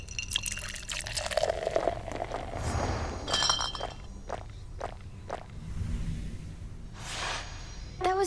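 Glasses of ambrosia clink together in a toast in the video game Hades 2. Pouring and bright chinks come amid footsteps and scattered taps, with a sharp ringing clink near the middle and another at the end.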